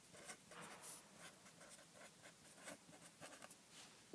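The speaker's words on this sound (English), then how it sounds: "here's my fancy whiteboard, and I'm going to write at the top" Marker scratching across a whiteboard while a header is written, with soft intermittent strokes and squeaks over a quiet room, close and fairly faint.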